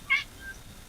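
A cat gives a single short, clear meow close by, with a faint trailing squeak after it over low background hiss, and no speech.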